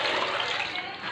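Tap water runs steadily while molokhia leaves are washed, a close, continuous splashing hiss lasting about a second.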